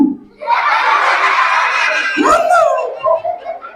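A crowd of children shouts a loud, drawn-out reply to a religious greeting in unison, rising and then tailing off into a few scattered voices.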